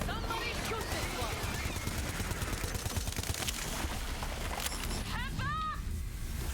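Video game gunfire crackles in rapid bursts and fusillades throughout a chaotic war battle against a cult, dense and continuous under excited shouting from several players.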